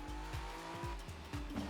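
A hypercar in rFactor 2 at Sebring screams with a high engine note and repeated short tire squeals as it corners, loud and close, with no voices.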